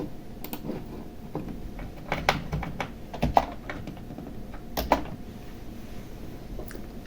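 Typing on a computer keyboard to enter a pip install command for the pyjokes Python package: scattered individual key clicks with short bursts and pauses, close and crisp over a quiet background.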